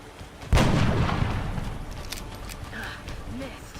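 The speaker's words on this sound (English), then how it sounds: "Let's just shoot it." A single gunshot fires in the XCOM turn-based strategy game, a sharp blast followed by a long rumbling decay, with faint game effects after it.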